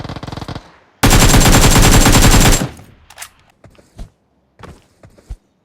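A video game shootout erupts in a loud, sustained burst of rapid automatic gunfire lasting over a second, followed by a few scattered single shots and thuds fading into quiet.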